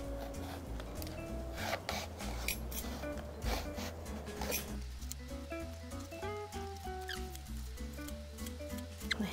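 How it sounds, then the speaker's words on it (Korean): An eggplant is shaved into thin slices with a vegetable peeler, giving repeated soft rasping scrapes in a steady rhythm over quiet background music. "감자칼을 가지고 얇게 썰어줄게요"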